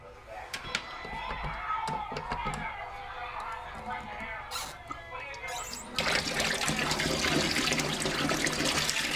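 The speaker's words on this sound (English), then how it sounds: "now I'm just gonna wash my hands" A sink tap opens and water streams steadily as hands are washed after making vegan gingerbread dough, preceded by clinks and handling noises and a brief voice.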